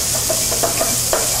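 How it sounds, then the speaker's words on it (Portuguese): Finely chopped bacon sautéing in a pan for a pasta sauce, a soft steady sizzle with a few light stirring clicks and scrapes, no talk. "Então, refogamos o bacon, ele tá aqui cortado bem miudinho"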